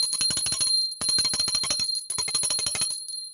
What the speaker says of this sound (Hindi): घंटानाद करेंगे।